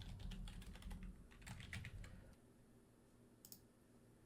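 Rapid typing on a computer keyboard, with clusters of close, crisp key clicks that thin out into a few isolated taps after a pause.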